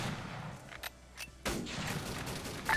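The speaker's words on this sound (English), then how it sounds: "That'd be the DP that was firing, but yeah, just a lot of bolt action rifles here." Bolt-action rifle shots and DP machine gun fire in a war video game, a few sharp cracks, some near and some distant, with a rumbling echo after each.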